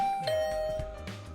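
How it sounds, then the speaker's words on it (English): Electronic doorbell chime in the Hundred Line Last Defense Academy game, a two-tone ding-dong ringing out over soft background music. "but I'll ring the bell anyway."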